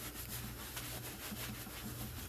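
Bananas being rubbed down with soap by hand, giving a steady, close, continuous scrubbing and rubbing texture with a faint low hum beneath, no talking.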